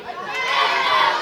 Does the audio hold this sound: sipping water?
no